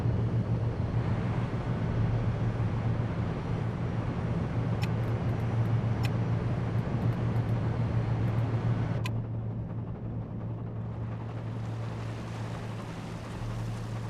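Engine room of a ship in the Seafarer ship simulator game: a steady, loud mechanical drone with a deep hum, dropping to a somewhat quieter rumble partway through, with no voices.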